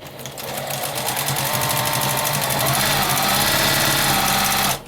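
A home sewing machine stitching a flannel baby bib: a loud, steady mechanical whir with fast rhythmic needle ticking that runs nearly five seconds and cuts off abruptly at the end.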